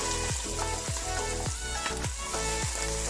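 Onions frying in a pan for a Black Sea-style potato stew give a continuous loud sizzle. Repeated stirring scrapes come through about every half second.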